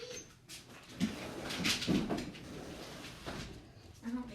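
A pet dog whines and whimpers indoors, wanting to be let outside, with soft thuds and household movement around it; the high whines come in short bursts near the microphone.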